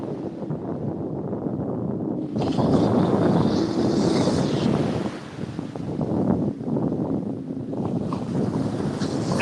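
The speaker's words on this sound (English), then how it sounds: "Feels like that wind's picking up a little bit too" Strong wind gusts buffet the microphone on a surf-fishing beach at Panama City, a loud rumbling roar that surges and dips with faint waves beneath, no voices.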